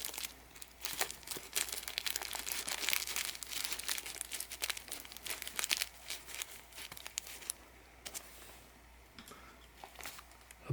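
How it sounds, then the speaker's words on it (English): A folded strip of wax paper pushed down the spine of a casebound book during cover repair, giving busy crinkling and rustling bursts up close, easing off toward the end. "I've got a strip of wax paper folded to the proper width. I'm going to fish it down the spine"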